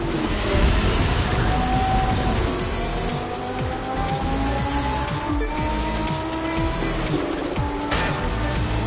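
Race cars in The Crew 2 roar through a tight race, engines droning and shifting pitch steadily and loudly throughout, with no talking.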